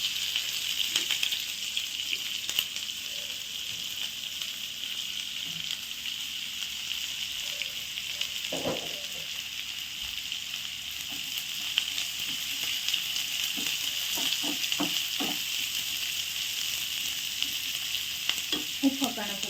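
Onion frying in a pan gives a steady, close hiss of sizzling oil that runs unbroken, with a few faint clicks and scrapes of stirring now and then.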